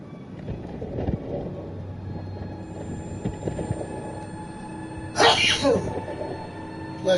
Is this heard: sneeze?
yes